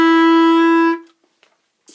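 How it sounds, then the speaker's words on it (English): One clarinet note, F sharp, held steady for about a second and then stopped, followed by near silence with a faint breath or small noise at the end. "Notice F sharp sounds a little higher."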